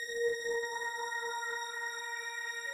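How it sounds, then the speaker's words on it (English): High sustained string patch from a Korg M1 synthesizer, a single bright held note with rich, evenly stacked harmonics, steady and unbroken from start to finish with no voices. "And then the strings, Korg M1."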